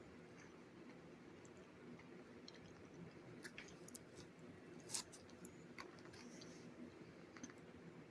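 Someone chews a dense, tightly pressed protein bar in quiet, close, soft mouth sounds with small sharp clicks and one brief crunchy snap, over a faint steady background.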